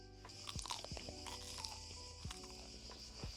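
Somewhat cold KFC chicken tenders being bitten and chewed close to the mic, a run of crisp crunches at an uneven pace, quiet, heard over faint background tones.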